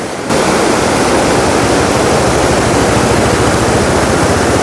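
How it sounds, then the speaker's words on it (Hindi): A fast-flowing mountain river near Keylong rushes in a loud, steady roar of turbulent water, close and continuous with no break. "पानी बहुत तेज़ आ रहा है इस नदी में।"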